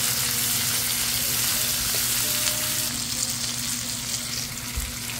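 Tomatoes go into a hot pan of oil for ginataang tilapia with pechay and are stirred, giving a steady, close sizzle and frying hiss with faint scraping throughout.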